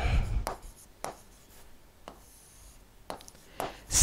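A teacher writes on a classroom board with chalk or marker, producing several separate short scratchy strokes spaced out over a few seconds, with faint room noise between them.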